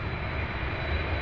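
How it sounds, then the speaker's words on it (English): Boeing 747 jet taxiing along taxiway Alpha at Louisville International Airport, a broad, continuous engine rumble with heavy low-end roar, close and unbroken. "So when that 747 comes by here on taxiway Alpha"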